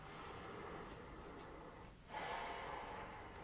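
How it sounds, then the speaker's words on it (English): Slow, deep breaths during a standing Pilates exercise, a long steady exhale followed by a brief pause and then a fuller inhale, close and fairly quiet. "Kind of lengthen the breaths,"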